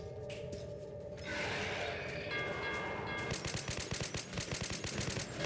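Automatic gunfire in the video game Metro 2033 Redux, a fast regular burst of sharp shots that starts partway through and keeps hammering to the end over low game ambience.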